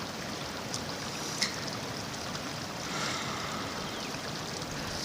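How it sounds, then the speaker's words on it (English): River flowing with a steady broadband rush of water, continuous and moderately distant, with faint splashes and trickles over it and no voices. "More of the river flow"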